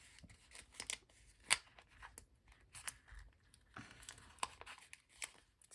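Scissors cut through planner sticker sheets in short, crisp snips at an uneven pace, with faint paper rustles between cuts. The sound is quiet and close, with no talking.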